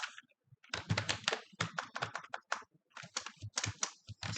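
Rapid, uneven clusters of key clicks from a computer keyboard while code for conditional statements is typed, close and crisp, pausing briefly between bursts.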